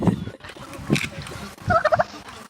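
Hand-fed turkeys at a crowded Thanksgiving feeding event in a town centre gobble loudly, several rattling calls bursting up close over a busy crowd murmur.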